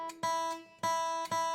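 A single high note on a guitar's high E string is plucked repeatedly. Each pluck rings out bright with shimmering harmonics, and the string is not muted between attacks.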